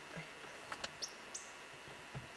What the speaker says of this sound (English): This is a beautiful nectar-eating bird